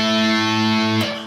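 A single distorted electric guitar power chord of root, fifth and octave on the D, G and B strings, 80s glam metal style, rings out thick and sustained, then is cut short just before the end.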